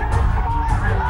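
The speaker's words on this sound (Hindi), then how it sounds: "जमकर हो हंगामा, नारेबाजी" Crowd of migrant workers protesting in the street, a loud mass of shouting and yelling voices blending into a dense roar, close and continuous for a brief moment.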